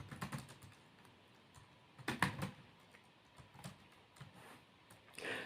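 Fingers type on a computer keyboard in faint, irregular bursts of clicks, with a denser flurry partway through and brief pauses between.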